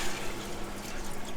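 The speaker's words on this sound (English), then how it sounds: "Add in your water" Water pours steadily into a pot of split peas for a vegan stew, a continuous close rushing splash with no voices.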